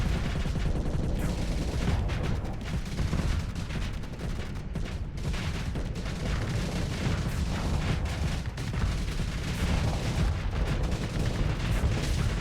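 Auto pulse laser weapon in Starsector firing in a dense, continuous barrage, loud rapid bursts blending into a sustained roar with booming impacts throughout.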